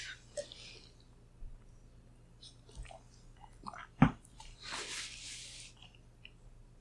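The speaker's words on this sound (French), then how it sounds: "Vas-y, prends une gorgée, je t'accompagne." Sips and swallows of water during a quiet conversation setting, with a few soft mouth sounds and a sharp close gulp-like click midway, no talk over it.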